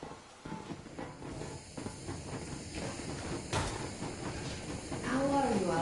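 In the Metro Exodus video game, the steam locomotive Yermak gives off a steady, moderately loud hiss that rises toward the end, with faint mechanical rattle underneath.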